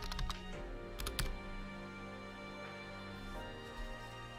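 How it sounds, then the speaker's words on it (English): Someone types on a computer keyboard in quick bursts of clicky keystrokes, with sharper clusters near the start and a softer steady patter afterward, all close and clear. "I have to keep typing"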